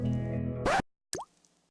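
Water dripping from a leak, with a single sharp plop into water and a short trailing ring after a steady tonal hum cuts out.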